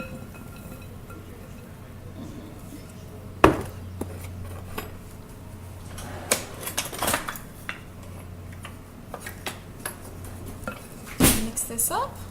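Cut fresh rhubarb and strawberries tumble into a mixing bowl, with scattered clinks and thuds, a couple of sharper knocks against the bowl, and someone talking over them.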